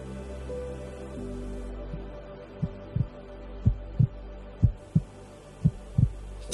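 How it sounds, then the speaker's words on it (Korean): A heartbeat sound effect plays as a steady series of deep, thumping double beats that grow louder and more regular over a low hum, with no other sounds. "당신의 심장 박동처럼"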